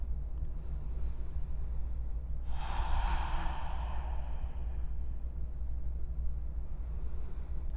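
One long, audible breath while a yoga bridge pose is held, rising and fading as a soft, close airy rush over a low steady background hum, with no talking.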